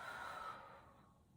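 A single slow, soft exhale through the nose or mouth during a belly breathing exercise, close and quiet, trailing off to near silence.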